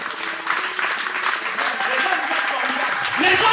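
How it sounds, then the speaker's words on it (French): A church congregation at a Sunday service breaks into steady applause for the men, the clapping dense and sustained throughout, with voices mixed into the noise and a slight swell at the end. "Est-ce qu'on peut acclamer pour les hommes?"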